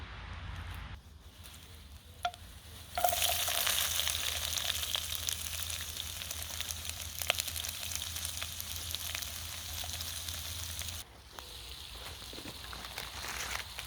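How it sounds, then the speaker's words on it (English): Sesame oil frying in a hot wok, a faint crackle that swells into a steady, fairly loud sizzle for several seconds before dropping back to a quiet hiss. "I'm going in with some sesame oil to a hot wok"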